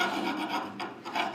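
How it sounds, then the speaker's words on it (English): A metal file rasps across a rough edge of a gun part in short back-and-forth strokes, close and alone. "I'm going to use a file that takes one of the rough edges off here."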